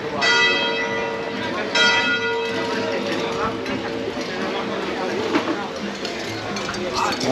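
Church bells chime at a stone fair in Binissalem, Mallorca, ringing out loud and sustained over a busy outdoor crowd with chatter and stall noise throughout.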